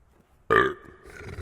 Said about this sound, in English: burp.